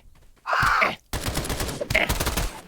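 Gunfire in a shooter video game landing a headshot, a loud burst followed by continued rumbling shots and game noise, close and dense with no talking.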